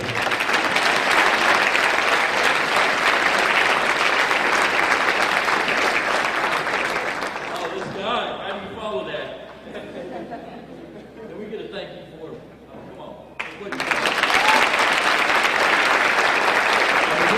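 Loud, sustained applause from a rally crowd at the Greenwood Cultural Center in Tulsa dies down into murmuring chatter midway, then surges back to full clapping near the end.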